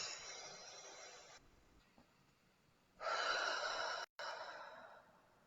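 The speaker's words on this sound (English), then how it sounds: "Deep breath." One long, slow breath is drawn in and let out audibly, close and soft. A fainter, steadier stretch lies between, then a stronger exhale that cuts off briefly before continuing.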